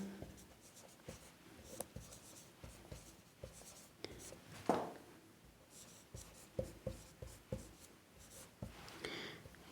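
A pen moving across paper in a quiet room, with soft scratchy strokes and irregular taps that come in short bursts with brief pauses between them.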